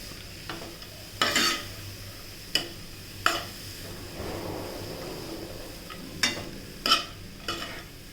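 Grated carrots for carrot halwa fry with a soft, steady sizzle, broken by several sharp scrapes and clinks of a spoon stirring against the pan.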